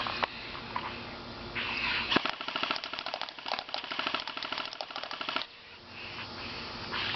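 An airsoft gun fires a rapid burst of sharp, snapping shots at an aluminium pop can outdoors, the cracks clustered tightly together for a few seconds between quieter stretches of background noise.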